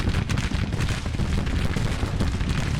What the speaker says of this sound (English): They're under artillery fire and taking flanking fire.